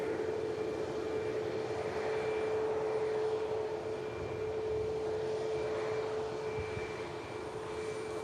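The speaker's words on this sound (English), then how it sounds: "Let's get a glimpse of the Dreamliner" A Boeing Dreamliner jet airliner at Manchester Airport gives off a steady, distant engine roar with a faint whine, unbroken and fairly quiet throughout.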